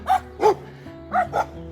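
Dogs barking along a walking route in the Piedmont region of Italy, four sharp barks in two quick pairs, fairly close and loud with brief gaps between them.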